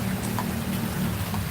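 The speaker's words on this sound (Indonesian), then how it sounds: "Iya sih bener hujan." Steady rain falling outdoors, a continuous even hiss with a low rumbling wash underneath and no distinct drops standing out.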